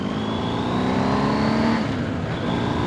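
A BMW R1250 GS Adventure motorcycle on a 60-mph country road gives a loud, steady engine drone with rising and shifting pitch and steady wind rush throughout.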